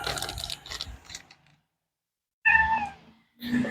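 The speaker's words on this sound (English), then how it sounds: "I already fed y'all cats." Cats meow close by: an early cluster of short chirpy calls, then after a silent gap a clear, loud meow followed by another starting at the end.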